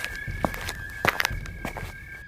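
Govind's footsteps as he walks home, a handful of soft, uneven steps at close range over a steady tonal hum.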